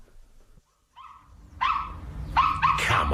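A dog barks behind a door in a 1994 drama, a few muffled, mid-distance barks and yips that come in quick bursts.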